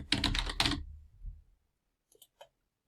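Brisk typing on a computer keyboard: a quick burst of loud, close key clicks, then a few faint, sparse taps after a short pause.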